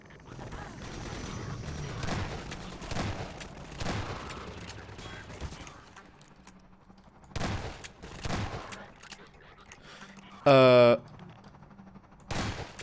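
Shotgun blasts in the shooter game Half-Life 2 Episode 1: a few loud, sharp booms spread through the clip over steady game noise, with a brief rising electronic whine near the end.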